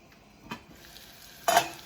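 Butter melting in a pan on the stove for mashed potatoes and giblet gravy gives a soft, continuous sizzle with a brief scrape near the start and a louder burst of stirring or frying near the end, no voices.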